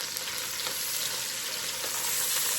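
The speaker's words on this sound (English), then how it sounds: "Now we're going to add a large diced sweet yellow onion" A large diced sweet yellow onion fries in a pan over rendered fat, giving a steady, dense, close sizzle that stays even throughout with no talking.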